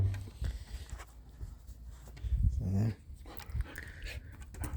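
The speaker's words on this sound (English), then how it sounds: "He's a good dog, but I bore him too much." A dog whimpers and whines faintly amid low background noise and rustling near a sawmill run by an old Detroit engine, with a louder whining stretch toward the middle.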